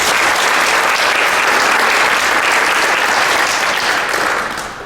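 An audience at a NIRMA nuclear industry conference gives loud, sustained applause welcoming speaker Hank Nelson, a dense wash of clapping that tapers off slightly at the end.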